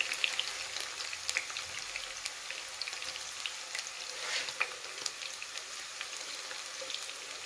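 Green chilies sizzle steadily in hot oil in a frying pan while an aloo baingan sabji is being cooked, a continuous crackling hiss with small pops, fairly close and without talk.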